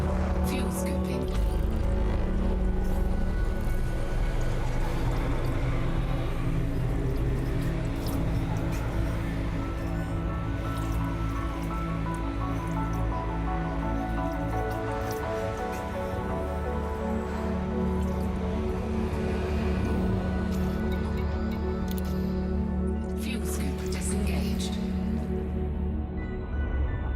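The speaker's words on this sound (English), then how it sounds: "Fuel scooping." A spaceship scoops fuel in Elite Dangerous: a dense, continuous roaring rush, loud and steady for the whole stretch, with a voice talking over it at times.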